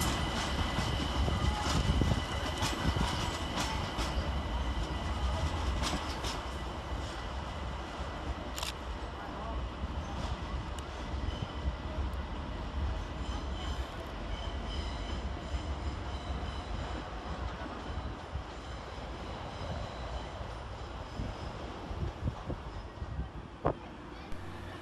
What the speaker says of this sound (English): Departing over on the far side is 378233. Departing with the 2014 London Overground service to Richmond.